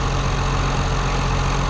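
A farm tractor idles steadily at close range, a continuous even engine rumble with no variation or voices.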